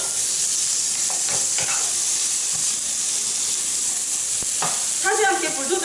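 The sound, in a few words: squid and onion stir-frying in a pan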